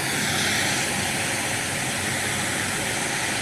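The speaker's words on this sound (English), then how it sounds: "I have a loudspeaker that is playing some pink noise." Loud, steady broadband hiss of pink noise pours continuously from a nearby loudspeaker, unchanging throughout.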